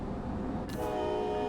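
An ALP-46 electric locomotive in Train Sim World 6, built in Germany by Bombardier and based on the BR-101, hums steadily with a low rumble, then a bright tonal whine rises and holds.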